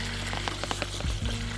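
Elk meat fries in melting butter in a pan, a close steady sizzle with small crackling pops and a brief low bubbling near the end, with no voices.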